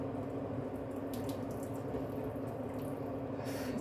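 Water poured from a cooking pot into a kitchen sink, a steady close splashing rush that runs without a break through the whole stretch, with no talking.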